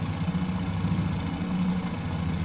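Fokker F VII engines in Microsoft Flight Simulator, with power coming up, give a steady droning hum, a low, even mechanical note that holds throughout without pause.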